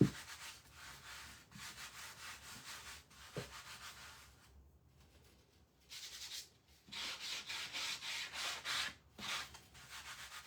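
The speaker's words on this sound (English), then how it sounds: "I sometimes sand over my things." Sandpaper is rubbed over a rice-paper decoupage craft piece coated in Mod Podge, in quick rhythmic back-and-forth strokes at close range, pausing for a few seconds midway before resuming in faster bursts.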